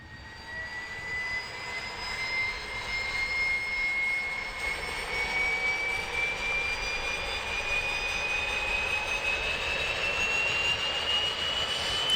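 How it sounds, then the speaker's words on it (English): A Carenado SF 340 turboprop engine spools up in the Prepar3D flight simulator, a steady roaring whine with a rising tone that builds and holds loud throughout. "I'm saying start left engine, and that will go through all the procedures to get the engine started"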